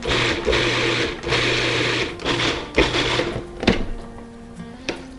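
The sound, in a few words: food processor pulsing corn salsa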